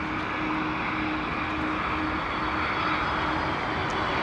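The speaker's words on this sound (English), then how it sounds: "Here we go, Delta Airlines 767-400 coming in," A Delta Airlines Boeing 767-400 comes in to land at Heathrow, its engines giving a continuous loud roar and rumble that holds steady for several seconds, with no voices over it.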